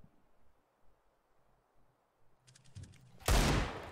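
Counter-Strike match gunfire ends a quiet stretch of faint rustle with a short patter of clicks and then a loud, sudden burst of shots at close range.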